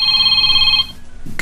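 A cellphone rings loudly in a steady electronic tone for close to a second, then stops, followed by a brief rustle.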